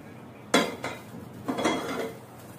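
Pots and utensils clank as the pot of tender cooked mutton is changed, with a sharp metallic knock followed by a few softer scraping clinks and rattles close by.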